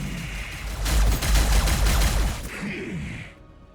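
Gunfire and explosive impacts from a Warhammer 40,000 tabletop-style video game battle, aimed at Locust Heavy Destroyers: a dense, loud burst of shots and blasts swelling in the middle, then a softer whooshing tail.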